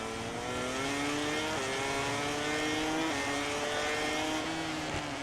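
Honda MotoGP race bike in the MotoGP 18 video game, its engine holding a steady high-pitched whine at speed with small gear-change steps, loud and continuous with no talking.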